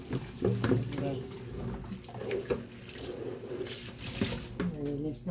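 Tap water runs steadily into a kitchen sink as it is cleaned, a close splashing rush with clattering knocks, while a voice seems to murmur faintly underneath.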